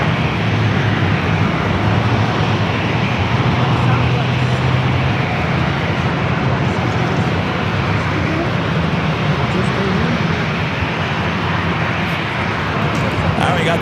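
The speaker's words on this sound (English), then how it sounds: "Southwest 2237, runway 27, clear for takeoff." Southwest Airlines jet taking off from runway 27 at San Diego airport, a loud sustained roar of engines with broadband rumble building steadily, heard from outside under continuous radio chatter and talk.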